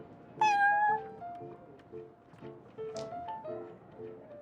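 Prince, a cat in the game Genshin Impact, meows clearly and close with a drawn-out cry, then gives a second shorter meow over a soft, light game music background.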